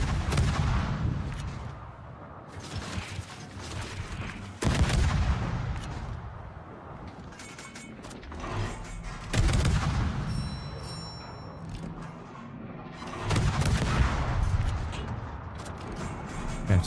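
Naval artillery from warships in the World of Warships video game: loud, heavy booms repeat in several salvos over about seventeen seconds, each followed by a long rumbling tail. No one talks.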